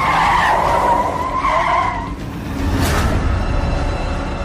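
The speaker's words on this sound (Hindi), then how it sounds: "कार स्टार्ट की और जयंत ने गाड़ी को हवाई जहाज बनाकर दौड़ा दिया" A car is driven away at high speed with tires skidding and squealing. A loud engine roars, then dips briefly, then a whoosh surges back in. There is no talk.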